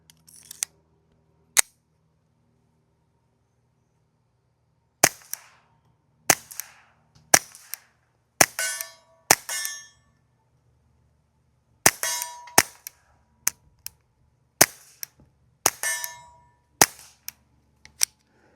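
Sharp, dry shots from a Mauser HSr .22LR rifle firing subsonic rounds, one at a time: a couple of isolated cracks, a pause, then quick strings of reports close together, loud and close with no talk.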